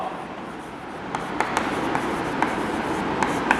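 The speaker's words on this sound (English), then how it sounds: "So let's write down total score." A pen writes a score on paper in a classroom, making faint scratchy strokes and light taps at irregular intervals over a steady background hiss.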